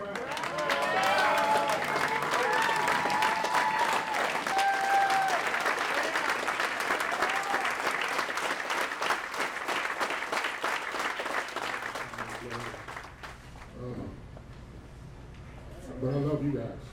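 An indoor audience at a union chapter gathering applauds loudly and steadily in honor of Brother Eric Brown, with a few cheers and voices mixed in, before the clapping fades and speech takes over.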